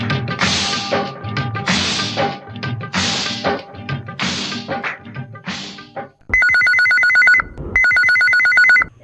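A telephone rings in two loud, sustained electronic bursts on a Hindi radio phone-in request show, coming right after a stretch of Hindi film music, with a short gap between rings.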